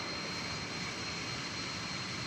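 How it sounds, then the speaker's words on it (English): A fixed-wing plane lands at DFW Airport after a short flight from Wichita Falls, Texas, heard as a faint, steady distant jet roar with no talking. "That plane was touching down from Wichita Falls, Texas."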